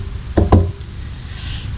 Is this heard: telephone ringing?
no